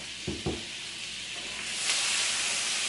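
Garlic and butter sizzle steadily in a hot pan as a small spatula scrapes up browned bits, two quick scraping strokes near the start and then a continuous close hiss that swells slightly toward the end.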